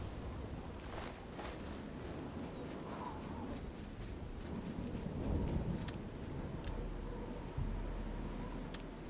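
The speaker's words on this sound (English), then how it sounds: "Freak storm, huh?" A thunderstorm with steady rain rolls across an outdoor scene in the Oblivion video game, with a continuous wash of rainfall and low rumbles of thunder at a moderate distance and no talking.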